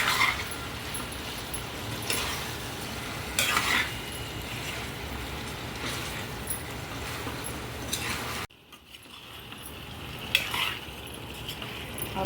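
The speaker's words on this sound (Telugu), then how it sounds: "స్పూన్ అయితే అల్లం వెల్లుల్లి పేస్ట్ వేసి మళ్ళీ కలిపి ఒక 5 నిమిషాలు అయితే మగ్గించుకోవాలి" Chicken curry with ginger garlic paste stirred in a pan: continuous soft sizzling with periodic scraping strokes of a spoon, close and fairly quiet, with no talking.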